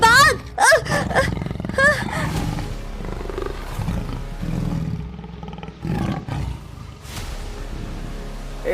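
A cartoon tiger gives repeated growling roars, loud and close, trading off with excited shouting voices across the scene.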